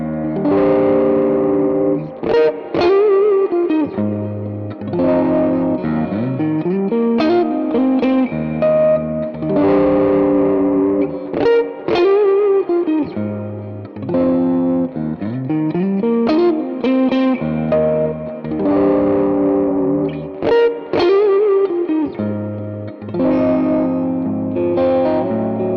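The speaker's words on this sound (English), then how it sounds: "This is not the easiest guitar in the world to play." A Fender electric guitar played through heavy distortion, ringing chords and bending lead notes in a steady rhythmic riff, loud and close with no talking.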